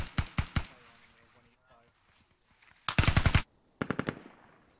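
Assault rifle fire in the tactical shooter Squad, several rapid bursts of close, sharp shots with pauses between them, including one dense sustained burst, and voices faintly underneath.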